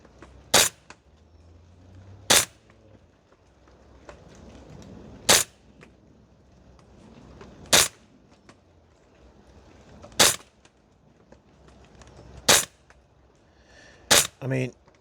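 A Guns Modify 416 MWS gas blowback airsoft rifle fires single sharp shots on an outdoor range, seven loud cracks spaced a couple of seconds apart, the last two closer together, over faint background noise.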